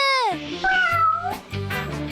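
A cartoon pet cat meows in a few quick, loud, close, high whining calls with slight wavering pitch, heard alone.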